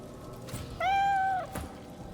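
A cat in the video game Divinity Original Sin 2 gives a single clear, drawn-out meow, loud and close, over a low ambient game background.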